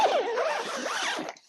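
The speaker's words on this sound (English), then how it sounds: "so when you physically zip it down" A zipper on a tent's mesh door panel is pulled down in one quick, close, scratchy run lasting just over a second, then stops.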